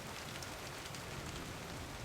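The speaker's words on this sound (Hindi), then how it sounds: "जैसे ही बरसात की आवाज़ें सुनी।" Steady rain falls continuously, a dense even hiss of drops with no other sounds, soft and constant throughout.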